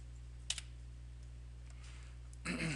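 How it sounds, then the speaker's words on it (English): A single key tap on a computer keyboard lands early, followed by a short burst of clicking near the end over a steady low electrical hum. "So I'm going to hit 6 on my keyboard."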